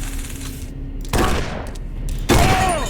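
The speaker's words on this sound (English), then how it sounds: "please stop shooting me!" Gunshots in the survival horror game Condemned: Criminal Origins, played on hard mode: two sharp, loud reports, each trailing into a brief decaying rumble, with quiet ambience between them.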